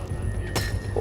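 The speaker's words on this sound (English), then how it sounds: "You hear that? That's a sniper." A single sharp, short crack from a sniper rifle in a Donbass war zone, heard at middle distance against a low background rumble, with no talking.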